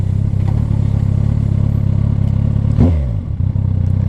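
A 2010 Kawasaki Ninja ZX-14R engine runs loud and close with a steady low drone, then a sharp rising rev sweep around the third second that settles back to a rumble.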